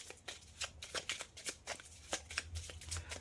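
Oracle cards being shuffled by hand for a reading, a steady run of soft riffling flicks and slaps repeating every fraction of a second, close and fairly quiet, with no talking.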